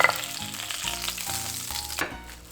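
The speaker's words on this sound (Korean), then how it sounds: "처음엔 센 불에서 겉을 바삭 튀긴 후 중불로 넣고 속까지 익혀주도록 하겠습니다" Sea bream head and collar fry in oil over high heat in a pan, giving a loud, dense crackling sizzle with a few sharp clatters near the start and midway.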